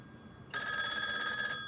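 An old 1A2 key telephone system's bell rings out, a steady, continuous ring that starts abruptly and holds loud and close.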